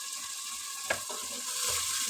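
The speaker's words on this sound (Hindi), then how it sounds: "अब हम मसाले को अच्छे तरीके से भून लेंगे।" Turnip and pea curry masala (mashed onion and tomato with about a cup of water) sizzling and frying in a pan, a steady close hiss with a brief stir clatter near the start.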